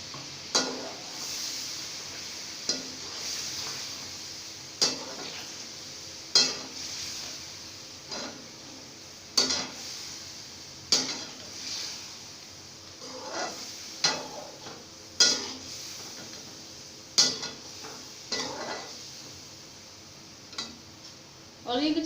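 Yogurt being stirred into frying masala for chicken biryani, with repeated sharp scrapes and clinks of a spoon against the pot at irregular intervals over a soft sizzle.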